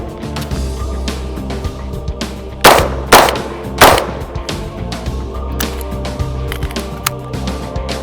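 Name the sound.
gunshots from Bushmaster 11.5-inch SBR rifle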